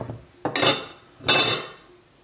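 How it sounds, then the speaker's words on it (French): A knife cutting through a chocolate cranberry cake, giving two distinct scraping, crunchy strokes as the blade goes through, with a light clink at the start, close and fairly loud. "enfin je vais le couper tout simplement pour voir ce qu'il se passe à l'intérieur"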